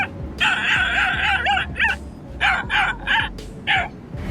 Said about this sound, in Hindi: कैसे ये पतला दुबला कुत्ता इस शेर को डरा रहा है